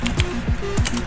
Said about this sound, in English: So let's type